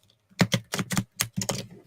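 Tarot cards being riffle shuffled: a quick run of crisp, clattering bursts, about seven close-up flurries within two seconds, each separated by brief pauses.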